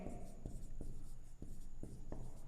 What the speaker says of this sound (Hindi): हम लिखेंगे